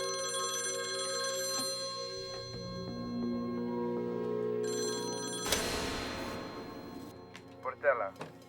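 A telephone rings repeatedly during a kidnapping case as the kidnapper calls, an old-style bell ring sounding several times over a low musical drone, with a speaking voice at times and a sharp hit near the end.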